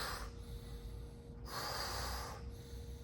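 Forceful nasal breathing during a breath exercise, with two strong, close bursts of air separated by a quieter pause and no voices.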